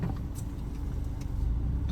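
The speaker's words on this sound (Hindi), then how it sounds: "भैया गाड़ी चालू कर दिया" A car engine on a road trip through Uttarakhand turns over and runs, a steady close, low rumble filling the whole stretch, with a faint light tick or jangle near the start.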